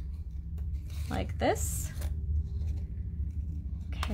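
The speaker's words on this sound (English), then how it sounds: "I'm just going to take my scissors and I'm going to trim around the shell" Scissors trim around a paper shell shape in a few quick snips, close and crisp, with a person speaking briefly at the end.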